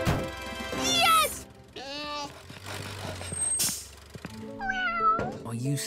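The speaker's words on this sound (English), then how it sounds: "Oh, you silly cat, Pilchard." A cartoon cat meows several times in long, bending, expressive cries, loud and close, with short gaps between calls and a low background rumble.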